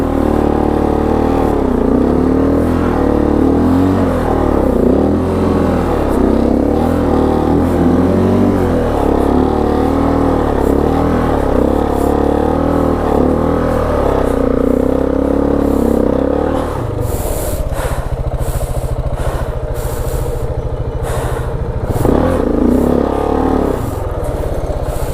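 A KTM 690 Enduro R motorcycle bogged in deep mud, its single-cylinder engine revving hard and continuously close by, the note rising and straining as the bike sinks, with a rougher churning stretch near the end.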